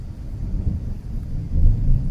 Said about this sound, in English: it's thundering pretty good